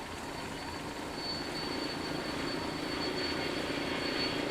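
Helicopter flying over a bike race in the Alps, a steady engine drone with a high whine that slowly grows louder, with no voices.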